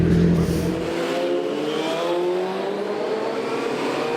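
Superstock racing motorcycles pull away from the holding area at the Knockhill circuit, engines droning and rising in pitch as they accelerate, a fairly loud blended roar that gradually thins out.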